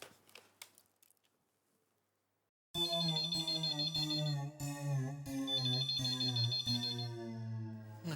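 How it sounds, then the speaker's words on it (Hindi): An intercom in a home rings with a loud electronic melodic tone. The repeating chime starts abruptly after a few quiet seconds and carries on steadily to the end. "नट्टू काका, इंटरकॉम।"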